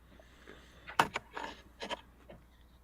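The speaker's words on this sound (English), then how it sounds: "picking up my chewing" Close-up chewing of food right at the microphone, a few soft irregular crunchy bursts and mouth sounds, quiet and alone with no talk.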